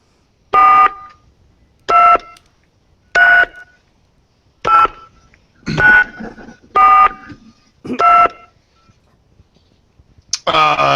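A cell phone dials out in a remote South Carolina bog, seven evenly spaced keypad tones beeping about once a second, followed by the start of talking.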